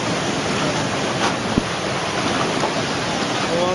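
Tsunami waves surging onto land: a loud, steady roar of rushing water with no letup and one brief sharp knock partway through.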